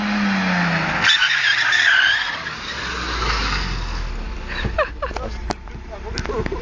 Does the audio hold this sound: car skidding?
yes